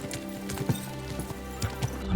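Horse hooves clip-clop in the video game Kingdom Come: Deliverance 2, a handful of soft, uneven hoofbeats over a low steady hum of game ambience, rising slightly at the end.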